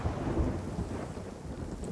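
Thunder rumbles low and broad beneath a steady wash of rain during a storm at sea in Sea of Thieves, with no voices.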